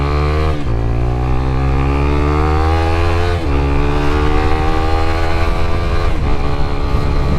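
A Suzuki GSX-S125 race-build motorcycle rides around the block. The loud, close single-cylinder engine climbs through the revs in repeated pulls with brief dips at gear changes.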